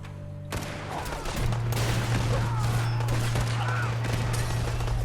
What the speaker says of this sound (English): Our rocket turret's going crazy.